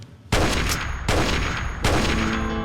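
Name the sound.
gunfire in Fallout 4 video game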